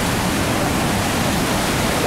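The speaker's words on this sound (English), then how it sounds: "The falls are so loud, I don't know if you can even hear me as I record." A loud Yosemite waterfall, steady roaring white-noise rush filling everything, close and overwhelming without a break.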